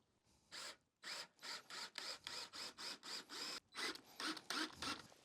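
Screws driven one after another into deck boards fastened with Easy Deck hidden clips on an octagonal gazebo floor, a cordless driver whirring in about ten short, even bursts separated by brief pauses, close and fairly loud, with no talking.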